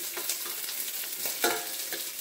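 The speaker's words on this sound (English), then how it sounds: "right away that onion begins to cook and fry up" Sliced onion fries in a smoking hot pan, giving a dense, steady sizzle with soft scraping from stirring now and then and no voices.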